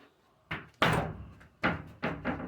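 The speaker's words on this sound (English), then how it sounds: "There's the divider door." A wooden divider door in a rebuilt goat shelter bangs and knocks several times, with a louder slam near the start and a few shorter thuds after, close by and alone.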